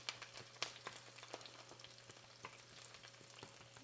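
Chicken sizzles and fries in oil in a pan, with scattered crackles and pops plus soft scraping as it is stirred, fairly quiet and close.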